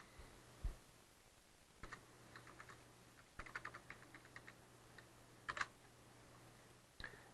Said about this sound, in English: I'm going to type this in.